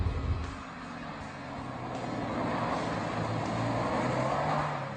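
Subaru WRX with a 6-speed manual on the road, its engine a steady, mid-level hum that gently rises and falls as it drives, with no voices.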